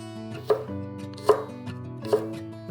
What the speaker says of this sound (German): Lauchzwiebeln schneiden